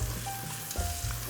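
Rinsed lentils sizzling in glossy spiced oil in a hot pan, a steady close crackle with a brief stir.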